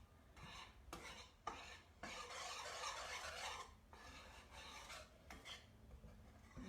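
Homemade playdough of flour is stirred in a pot with steady scraping and rasping strokes, close and fairly quiet, in rhythmic bursts with brief pauses.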